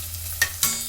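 Garlic dropped into hot oil for puliyogare crackles and sizzles in a pan, a steady frying hiss with two sharp bursts of spattering close by, no voices.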